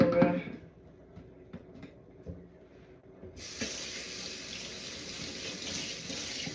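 Water runs steadily into a home kitchen sink after cooking pepper steak, a broad continuous hiss starting partway through and holding loud to the end, with brief clatter and a faint voice before it.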